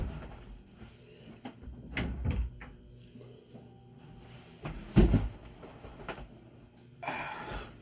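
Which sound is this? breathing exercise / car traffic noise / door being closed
door being closed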